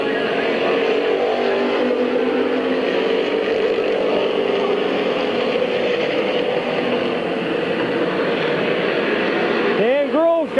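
Race cars circle a speedway oval in a continuous loud engine roar with several machines overlapping, and a pass-by sweeps through near the end while a voice talks over it.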